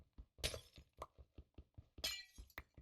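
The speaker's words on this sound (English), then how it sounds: "I hate the sound of breaking glass." Glass breaks twice in the Minecraft modpack All The Mods 10, two bright shattering crashes amid a steady rhythm of dull block-breaking thunks, close and fairly quiet.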